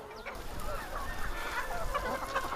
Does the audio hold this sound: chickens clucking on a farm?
yes